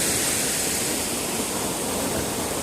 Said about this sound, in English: You can see this water feature is just amazing. It's got multiple layers to it.